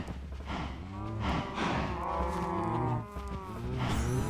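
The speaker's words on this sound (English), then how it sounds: "Look at the cows stuck in there." Several cows moo repeatedly in a video game server, overlapping drawn-out, low calls at close range with brief gaps between them and no talking.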